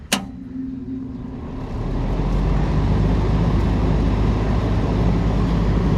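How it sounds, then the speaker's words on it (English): An old Lennox air conditioner's outdoor fan motor kicks on after a sharp click, its low hum and whoosh swelling over a couple of seconds into a steady, loud drone that runs on alone. "So the fan motor actually started that time."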